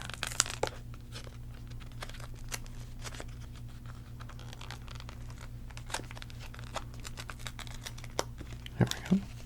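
Fingers pick and tear at the plastic seal wrapping a deck of playing cards, producing close, soft crinkles and small clicky snaps in irregular bursts, with a louder rustle near the end.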